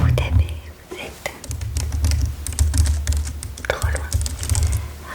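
Soft, close keystrokes tap on a computer keyboard in a quiet office workspace, while a whispering voice talks over the clicking.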